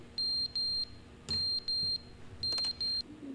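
Fire alarm in the video game The Stanley Parable, giving pairs of shrill electronic beeps separated by short pauses, with a couple of soft knocks between the bursts.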